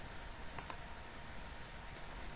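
Two quick, faint mouse clicks close together, pressing an OK button in SQL Server, against quiet room hiss.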